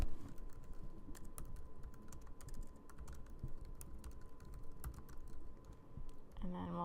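Rapid, irregular clatter of fingers typing on a computer keyboard, close and fairly loud, continuing for several seconds.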